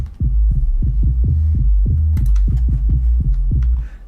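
Deep synthesized sub bass in a dance track tracing the synth line, with about a dozen punchy pulses thumping at a steady rhythm, loud and close, and brief clicky hi-hat ticks joining partway through.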